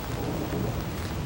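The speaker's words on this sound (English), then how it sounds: "You can hear some of the thunder behind me now." Deep rumbling thunder rolls under steady rain during a severe thunderstorm with tornado warnings, a dense continuous roar that fills the short stretch without any speech.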